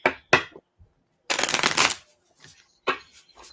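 Playing cards are shuffled for a card reading in quick riffling bursts: two short ones, a longer riffle of under a second, then another brief shuffle, with faint soft sounds between.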